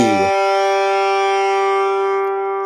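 Following a moment of talk, a guitar's G string is plucked and rings out steadily, slowly decaying over a few seconds.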